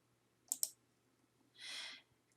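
Two quick mouse clicks close together, crisp and near, followed by a soft brief rustle, on a database list link in a library homepage; otherwise quiet room.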